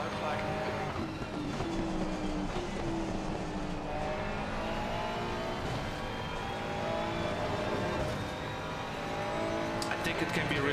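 A Ferrari race car engine drones steadily at Watkins Glen in a racing video game, a continuous loud revving note rising and shifting through gears with tire noise and faint clicks.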